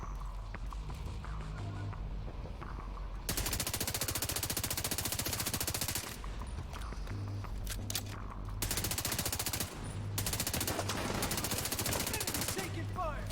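Bursts of automatic gunfire in the video game Division 2, loud rapid volleys in several separate strings over a busy background of game noise.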